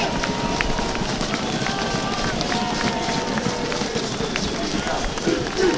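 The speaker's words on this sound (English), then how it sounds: "I want you all to start stamping your feet" A large outdoor crowd at an English Defence League rally in Rotherham stamps its feet together, giving a dense, loud, continuous rumble of thuds with scattered voices and shouts mixed in.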